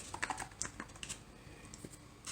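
Coins dropped into a small box for a handmade Nidavellir board-game insert, a quick run of light, sharp clicks and taps close up, with no talking.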